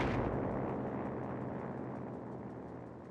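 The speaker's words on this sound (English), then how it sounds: "That's more in line with the British rockets." A British rocket artillery barrage in the video game Company of Heroes 3: a dense, continuous rumble of many overlapping blasts and crackling impacts, loud at the onset and slowly fading over about three seconds, with no voices.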